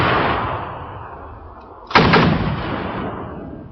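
A single loud gunshot or artillery blast cracks out midway through a low wind-like rumble, followed by a long fading roar; no voices.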